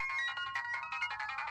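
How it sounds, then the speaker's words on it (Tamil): A phone ringtone plays on its own at a steady level, a bright repeating melodic pattern that keeps going for the whole stretch with no talking over it. "அக்கா ஃபோன் அடிக்குதுக்கா"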